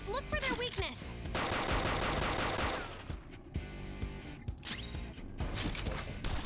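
Rapid gunfire bursts in the Persona 5 Royal video game, dense automatic fire from about one to three seconds with further shots and crashes around it, loud and close, alongside game music and effects.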